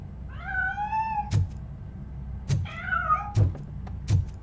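Two drawn-out cat meows in the video game Robocop: Rogue City, each followed by sharp knocks and thuds, set against a low ambient hum with no talking.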